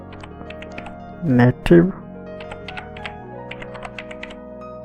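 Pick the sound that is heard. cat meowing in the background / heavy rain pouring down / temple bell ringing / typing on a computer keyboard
typing on a computer keyboard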